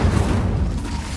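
Incendio fire spell in Hogwarts Legacy, a short dense whooshing burst with a low rumbling roar, loud and close, lasting about a second with no voices.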